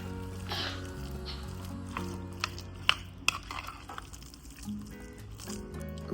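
A spoon stirs mashed guacamole made with lime in a bowl, giving soft wet squelches and a few sharp clinks against the dish over faint steady background tones.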